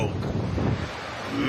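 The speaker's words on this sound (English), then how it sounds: "Wind is no joke." Wind buffets the microphone with a constant low roar that fills the whole short stretch, loud and steady outdoors.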